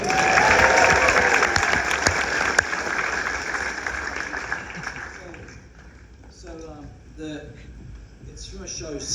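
Loud, sustained applause from a concert audience, filling the first half and then thinning out, with someone talking over the tail end.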